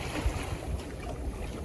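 Steady wind of about 6 to 8 knots and the wash of the sea around a small sailing dinghy reaching out on the open South Pacific. Continuous noise from wind on the microphone, with low water sounds and no voices.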